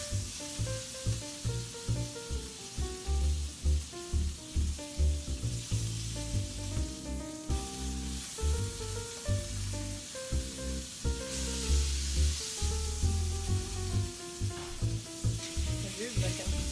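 Steaks sear in a pan with a loud, continuous sizzle and hiss that runs throughout, with rhythmic pulsing and tonal background sound underneath.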